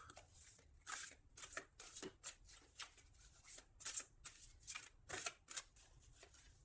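A deck of tarot cards is cut and handled: quiet, close, irregular papery riffles and slaps of cards, repeated many times at a brisk uneven rhythm.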